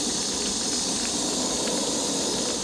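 A camping stove with a windscreen shroud roars at full output under a pot at a rolling boil, giving a loud, steady, broadband hiss that stays unchanged throughout.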